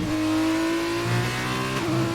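A Formula 2-style race car in a racing game at Melbourne winds its engine up through a steady high whine, then shifts from third into fourth near the end, the pitch dropping briefly before it climbs again.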